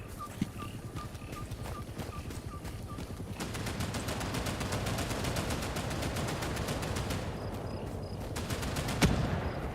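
Rapid gunfire in Hell Let Loose Vietnam, a war video game, comes as steady bursts of repeated automatic shots with a few single sharper cracks, moderately loud and continuous throughout.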